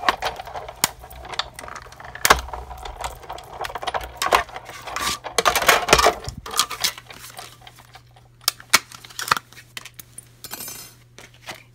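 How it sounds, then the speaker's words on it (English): A Whisper White paper circle being cut out, with sharp irregular clicks and snips of blades against paper and tabletop, some loud and close, spaced unevenly with quieter stretches between. "Now we're going to cut out a Whisper White circle."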